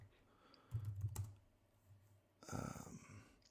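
Keys clatter on a computer keyboard in short bursts, a quick cluster near the start and a louder run toward the end, with quiet gaps between and no talking.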